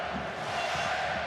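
An anxious German football crowd in a stadium makes a steady, distant roar and murmur, with no distinct cheers breaking out.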